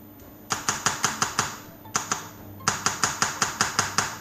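Chocolate Christmas cake mixture being patted down in a baking tin makes quick, crisp taps in fast, even bursts of about seven or eight, with a short pause between bursts and no talking.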